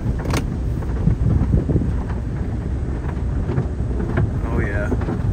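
A Ford Taurus SHO engine strains under load, a steady low drone with a dense rumble that holds throughout, and a voice occasionally speaking nearby.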